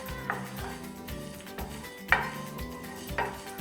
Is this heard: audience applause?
no